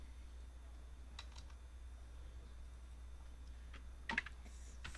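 Typing a new sheet name in Excel on a computer keyboard: a few scattered, quiet key clicks over steady low hum, ending in a brief cluster of sharper taps.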